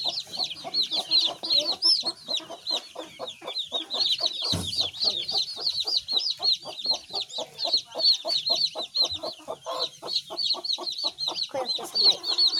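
Village chickens and their chicks keep up a busy, close chorus, with rapid repeated clucks from the hens and a constant layer of high chick peeping as the chicks are moved from the mother hen.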